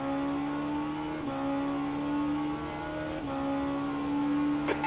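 A race car in rFactor 2 at the 8 Hours of Bahrain rolls into the pits, its engine holding a steady loud drone with two brief dips in pitch and a short high squeal near the end, with no talk.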